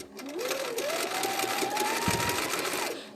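A sewing machine runs at a steady, fast whir for free motion doodling, holding its speed almost the whole time, with a rising pitch at the start and a brief knock near the end.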